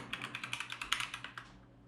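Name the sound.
typing a database statement on a computer keyboard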